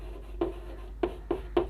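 Chalk or a pen writes on a board during a chemistry lesson, making four distinct scratchy strokes in an uneven rhythm. The strokes are close and clear, with no talk over them.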